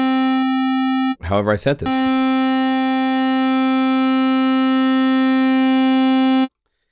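A steady synthesizer oscillator tone drones with a rich stack of even harmonics, holding constant for several seconds until it cuts off abruptly. A brief spoken phrase interrupts it once.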